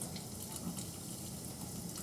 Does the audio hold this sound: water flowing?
yes